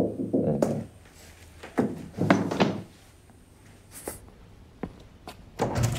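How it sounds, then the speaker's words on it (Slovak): A few separate knocks on a door, fairly close and irregularly spaced, with short quiet gaps between them and no talking. "Teraz niekto zaklope."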